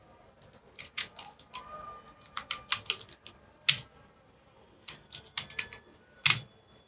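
Someone types on a computer keyboard in short bursts of crisp, close key clicks, broken by brief pauses, with no speech.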